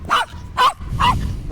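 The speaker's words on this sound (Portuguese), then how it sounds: "Deixa o cachorro dar o show dele" Dog barks three times in a row, each bark short and loud and close by, with low background rumble in the gaps and no speech.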